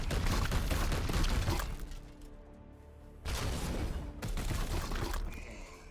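Support gunfire in Warhammer 40,000 Chaos Gate - Daemonhunters, heavy rattling volleys loud at first, fading to a quieter lull, then another strong sustained burst of shots and impacts.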